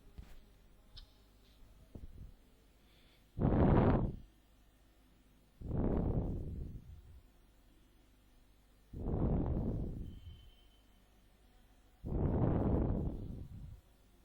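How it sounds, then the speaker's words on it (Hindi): A home power inverter running during a power cut gives four loud, evenly spaced whooshing hums, each about a second long and separated by quieter gaps, with a faint background hum between them. "ये इन्वर्टर की आवाज आ रही है।"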